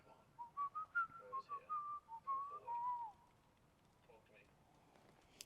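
Companion Logan whistles a short, bright melodic tune in the Fallout 4 video game, a string of clear rising and falling notes over the first three seconds, then quiet game ambience.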